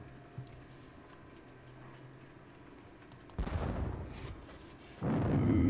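Artillery fires in the Battle of Bautzen wargame: two dull booming volleys, each a broad roar lasting about a second. A faint ticking sits under the first part.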